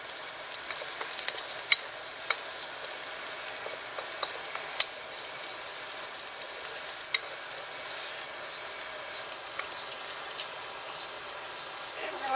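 Chopped scallions sizzle steadily in hot oil for a Chinese ginger scallion sauce, a soft, even crackle with scattered tiny pops and a faint background hum.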